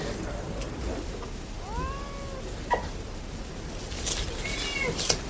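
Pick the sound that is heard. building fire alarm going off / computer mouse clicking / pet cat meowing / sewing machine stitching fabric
pet cat meowing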